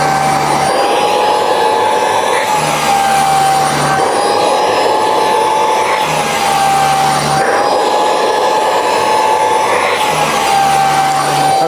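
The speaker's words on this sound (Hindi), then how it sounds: "जब भी आपको वैक्यूम को ऑन करना है ये जो बटन है इसको आपको प्रेस कर देना है। उसके बाद जस्ट आपको गारमेंट के" An AGARO Grand bed vacuum cleaner with UV light runs over a garment, giving a loud, constant whining motor drone with a steady high tone and a low hum that pulses every few seconds as it is pushed back and forth.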